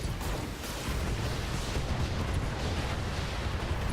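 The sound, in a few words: mech weapons firing in the video game Battletech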